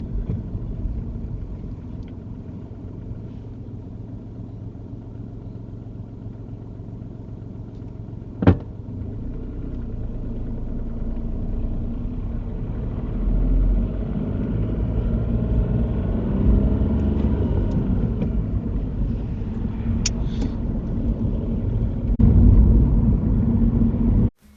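A car pulls away and speeds up along a road during a mock UK driving test, with a steady low engine rumble and road noise that swells gradually, plus a brief click partway through.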